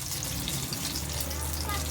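An abanico tortang talong (fanned eggplant omelette) frying in hot oil, giving a steady close sizzle and bubbling hiss that runs unbroken, while a voice talks faintly beneath it.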